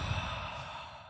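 A voice imitates the heavy, snorting breathing of a pug in one long, loud breath that fades out.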